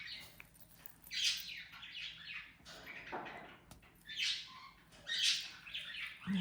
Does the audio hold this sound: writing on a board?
no